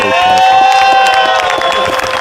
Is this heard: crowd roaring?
yes